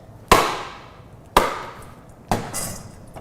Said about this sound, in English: So I'm going to break this coconut